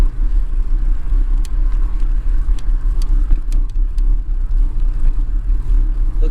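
Road traffic heard from a bicycle on a ride toward Roman Forest Blvd: a continuous close, loud low rumble of passing cars with wind noise and a few sharp clicks, no voices.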